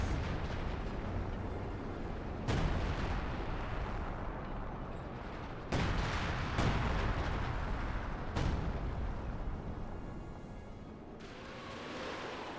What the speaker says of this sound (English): We see sector artillery being used from Jibber here